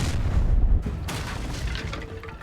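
The Incendio fire spell cast in the Hogwarts Legacy video game: a loud, rumbling burst of flame with a heavy low boom, followed by a roaring, crackling wash that trails off over a couple of seconds.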